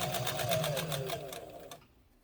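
A Kenmore 117.959 domestic sewing machine stitches in reverse, a steady, fast mechanical whir with a rapid needle patter that slows and stops near the end, with no talking.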